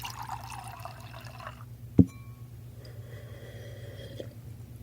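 Water is poured into a glass, with a trickling, rising fill sound, followed by a single short knock and faint liquid sounds in a quiet room.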